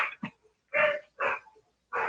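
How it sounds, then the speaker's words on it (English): A small dog named Shorty barks in a few short, separate bursts, a couple of quick yips up front and then three fuller barks spaced apart, fairly close and loud. "I can hear Shorty. What's he barking at?"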